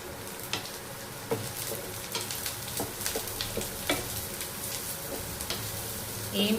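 Small pieces of cut garlic frying in a pan for tomato curry, with a steady close sizzle and occasional scraping stirs clicking against the pan.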